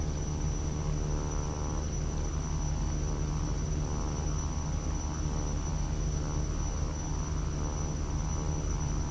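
Simulated King Air C-90B twin turboprop taxiing in a flight simulator game, a steady, dense engine drone with a constant high whine and low hum, unbroken and alone.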